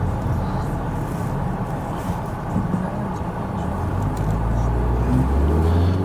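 A constant engine and road rumble from inside a moving car, heard from the cabin, steady and fairly loud, with the low drone swelling slightly toward the end and no talking over it.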